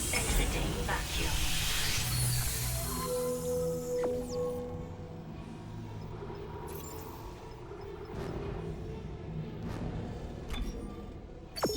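Airlock air floods back in after leaving vacuum in the Dead Space Remake video game, a steady broad hiss with mechanical clanks and tones beneath it, continuing for several seconds.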